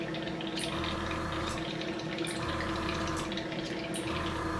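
Liquid flushes through airbrush equipment during cleaning between primer coats, a steady continuous wash of water-like rushing with faint bubbling, close and constant throughout.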